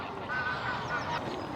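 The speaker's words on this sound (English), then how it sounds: "Canada goose." Canada geese honking at Dinton Pastures Country Park, with a few short nasal calls over a steady outdoor background of moderate loudness.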